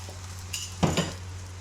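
Missi roti cooks on a griddle with a soft background sizzle, then a couple of brief utensil clinks and scrapes close by over a steady low hum.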